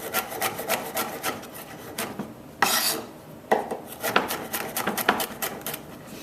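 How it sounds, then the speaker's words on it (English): A knife roughly chops garlic with quick, fairly quiet rhythmic taps, pausing briefly before resuming the steady chopping. "then we're going to give it a rough chop"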